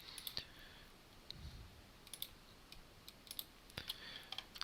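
Sparse, quiet computer mouse clicks, single and in short bursts, tapping out at irregular intervals against a low hiss with no talking.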